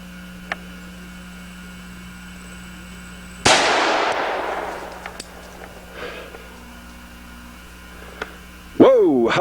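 A single sharp gunshot from a 460 Rowland pistol firing a 135-grain moly-coated bullet through a chronograph outdoors, loud and sudden with a decaying tail, followed by quiet ambience and a later clatter.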